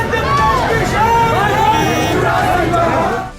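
Dense crowd at Shivraj's roadshow in Shahjahanpur, a loud continuous babble of many voices with shouts and cheering, close and sustained throughout.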